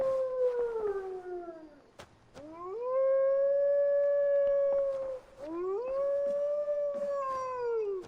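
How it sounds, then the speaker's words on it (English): Chewie, a dog in the Viking-era game Assassin's Creed Valhalla, lets out long mournful howls that rise and hold at a clear pitch. There are three or four drawn-out howls in a row, close and prominent, with faint game ambience underneath. "It's like a lot of howling."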